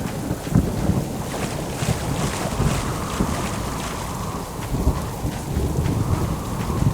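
Thunderstorm in a video game, with heavy rain hiss and gusting wind roaring steadily, low thunder rumbles swelling in and out, loud and continuous with no voices.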